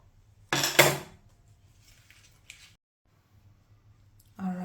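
Spices and fresh herbs, including rosemary, tipped into a pot for a rum pork leg brine, a short rustling clatter as they land, then a quiet pause with faint taps before another brief burst.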